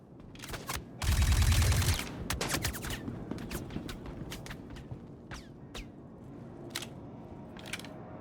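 Video game gunfire: a loud sustained burst of automatic fire early on, followed by a string of scattered single shots and clicks at varying distances.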